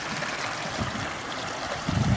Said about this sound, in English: This creek is really flowing due to the fact that all the snow is melting.